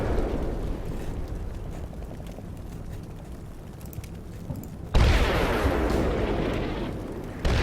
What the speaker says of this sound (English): Just heard an ATGM.